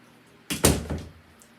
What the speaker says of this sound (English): I'm gonna shut the door